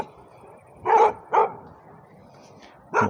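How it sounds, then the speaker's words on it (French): A dog barks outdoors at night near gardens: three sharp barks, two close together and then one more after a pause, at moderate distance over a low background hum. "Bon là il y a un chien"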